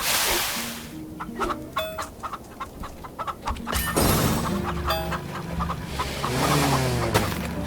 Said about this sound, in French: Ah, poulet.